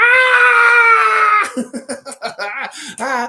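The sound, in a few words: screaming beaver voice imitation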